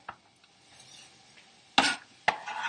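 Chopped celery dropped into a hot pan for kung pao tofu, giving two sharp rattling clatters near the end after a quiet start, with no talking.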